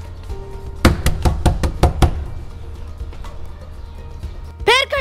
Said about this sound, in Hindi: इतनी जोर जोर से दरवाजा खटखटा रहे हो